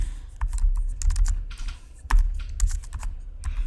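Rapid clicking keystrokes on a computer keyboard as an XLOOKUP formula is typed into a spreadsheet, an irregular close patter of clacks with a few heavier key hits, no voice.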